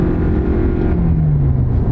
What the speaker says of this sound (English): Let's give it the gas and see what happens. It's not the old slow Prius.